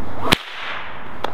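A small nylon whip cracks loudly twice, sharp isolated snaps about a second apart against a quiet background.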